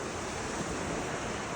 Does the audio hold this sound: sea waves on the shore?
yes